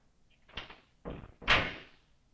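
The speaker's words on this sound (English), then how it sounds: "Risho, open the door, please" A door handled indoors gives three separate thumps and rattles roughly half a second apart, close by and moderately loud, with the last knock the heaviest and trailing off with a faint rattle.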